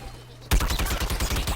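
Rapid automatic weapon fire from an Imp character in Plants vs Zombies Garden Warfare 2 bursts in suddenly after a quiet moment, a dense, steady stream of loud shots.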